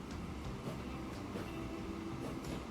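A train runs steadily in Transport Fever 2, giving a continuous rumbling rail drone with faint rhythmic clatter, even and unbroken for the whole stretch.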